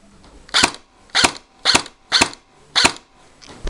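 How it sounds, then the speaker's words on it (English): An airsoft gun fires on semi-automatic, five sharp, evenly spaced cracks about half a second apart, close and loud, with a sixth beginning at the end. "Okay, so right now I'm going to fire on semi"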